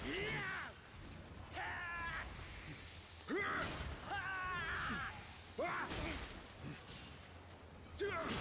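Crow-like bird enemies in a video game give harsh, rising caws in repeated bursts, mixed with whooshes and impact sounds from the fight.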